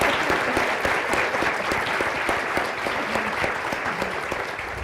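Steady, dense applause from a convocation audience welcoming a judge and a professor onto a panel, sustained clapping filling the hall for several seconds with no talk over it.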